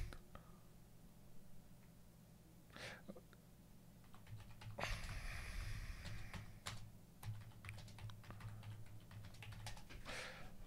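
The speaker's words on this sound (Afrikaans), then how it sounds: "Ek tik maar net wat ek nou vinnig kon onthou van die hadith daar" Bursts of typing on a computer keyboard, quick uneven clusters of clicks with pauses between them, close by, alongside soft breathy murmurs and faint room noise.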